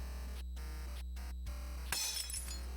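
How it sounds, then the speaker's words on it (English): Porcelain shatters on the floor in the video game Berrywitched, a single sharp crash near the end following a few soft clinks against a steady background hum. "The sound of porcelain colliding with the floor"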